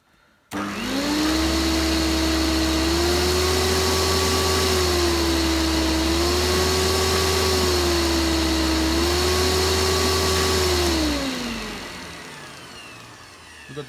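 A 2000 Samsung Wide Clean vacuum cleaner switches on abruptly and runs loud and close with a steady motor whine that wavers slightly in pitch, then winds down near the end.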